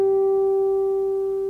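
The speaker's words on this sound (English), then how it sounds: "That's the natural harmonic of the 12th fret." A natural harmonic on a guitar string at the 12th fret sounds as a pure, bell-like sustained tone that fades gently, heard alone.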